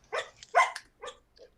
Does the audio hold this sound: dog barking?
yes